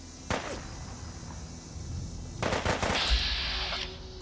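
Gunfire from a gunner in the video game Fallout 4 with Sim Settlements 2: a sharp single shot, then a burst of rapid cracks a couple of seconds later over a steady game background hum, moderately loud.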